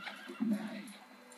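A horse neighs in a Barbie movie, one clear whinny swelling in the middle of the clip over a soft music-like background, with faint clip-clop hints.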